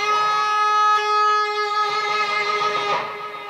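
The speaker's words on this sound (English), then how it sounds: "we're going to do here at the start is stretch on the second string" Electric guitar note bent up on the second string at the eighth fret and held with finger vibrato, a sustained wavering tone ringing clearly alone before a second soft pick near the end.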